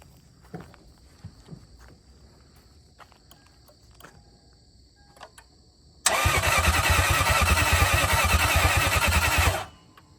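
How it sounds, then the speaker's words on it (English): A Lexus IS300 with a swapped 1UZ V8 engine cranks over loudly and steadily for about three seconds, then cuts off, following a stretch of faint clicks and small handling noises in quiet surroundings with insects faintly audible. "Well, it's cranking over."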